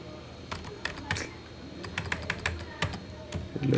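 Computer keyboard being typed on in irregular bursts of sharp clicks while someone enters table formulas, fairly close, with faint low background noise.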